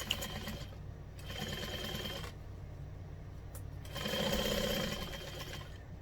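Sewing machine running a joining stitch along a 1/4 inch seam, with two steady bursts of rapid mechanical whirring separated by a pause, close and moderately loud with no talking.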